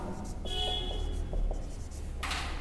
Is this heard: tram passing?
no